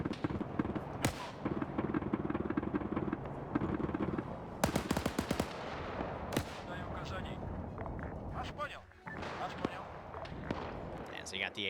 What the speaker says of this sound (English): So you got the AT guns firing